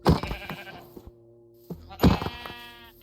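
Sheep in a Minecraft-style game world bleat in two loud, close bursts, the first at the start and the second about two seconds later, with a quiet, steady tonal hum filling the gap between them.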